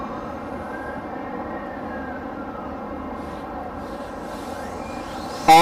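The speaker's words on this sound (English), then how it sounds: "We are going to start the takeoff of the drone." A Parrot ANAFI drone spins up for takeoff, a steady high whine of propellers with tones that slowly rise and glide, close and continuous, ending in a sudden louder burst.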